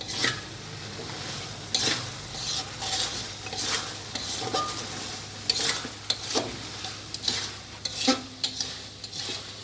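Khichuri of lentils, rice and fish is stirred in a frying pot, a utensil scraping and clinking against the metal in irregular strokes over a soft steady sizzle, with no talking.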